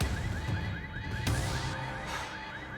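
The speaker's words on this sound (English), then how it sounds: "The alarm's not gonna make my life any easier." An alarm rings inside the Quantum Break video game: a loud electronic tone that warbles in a quick, repeating chirping cycle, sounding continuously with a sharp bang partway through and no talking.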